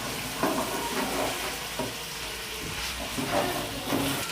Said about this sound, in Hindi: अदरक लहसुन के पेस्ट को तकरीबन 5 से 6 मिनट के लिए गोश्त के अंदर फ्राई कर लेंगे